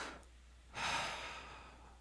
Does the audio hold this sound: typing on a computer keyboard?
no